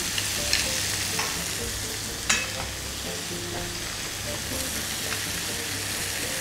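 Bacon fries in oil in a pan with a steady, dense sizzle and occasional faint pops and crackles throughout, with no one speaking.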